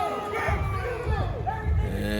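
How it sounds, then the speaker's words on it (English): Crowd at a pro wrestling show at the ATG Expo in Waco, Texas, shouting and cheering loudly with wavering yells and chants, close and continuous, over a low rumble. "the referee looking to find out which side of the crowd is vibing the most"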